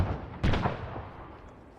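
A rocket launcher fires in a video game squad battle, a single loud blast with a rushing backblast that decays into a rumbling tail.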